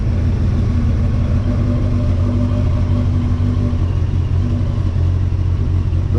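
A Yamaha R1 streetfighter motorcycle on its stock exhaust runs at a steady low idle, a loud constant engine drone with even pulsing tones and no distinct revs, heard alone without voices.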